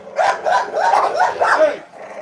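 Dogs at feeding time growling and barking close by, a run of rough snarling growls breaking into short barks over about two seconds, loud and harsh, with a human voice mixed in.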